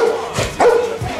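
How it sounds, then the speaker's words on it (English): A dog named Rex gives a couple of short, close barks and yips, with background noise and no clear talk. "He's a pretty good dog."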